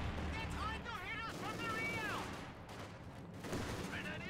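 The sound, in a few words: machine gun fire in Company of Heroes 2 video game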